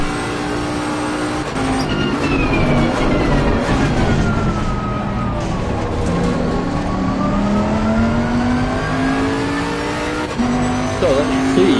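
A race car engine in Assetto Corsa Competizione roars loudly and continuously, its pitch sweeping down and up through gear changes, with faint tire squeal and someone talking over it.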